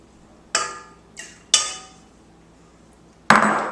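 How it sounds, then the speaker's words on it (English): Eggs for a carrot cake cracked and dropped into a mixer bowl: three sharp knocks close together at first, then a louder clink after a pause, each ringing briefly against the bowl, with no talk. "we're going to start with putting in our eggs"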